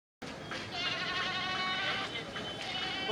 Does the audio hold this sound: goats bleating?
yes